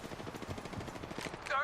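Call of Duty MW2 gunfire in a multiplayer match, rapid rhythmic bursts of automatic shots at moderate distance, mixed with a voice and game sounds and swelling briefly at the end.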